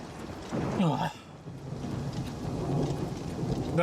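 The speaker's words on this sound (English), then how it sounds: "The thunder clapped." Stormy weather in the game Oblivion Remastered: a sharp thunderclap with a rolling rumble early on, followed by steady rain pattering over the scene.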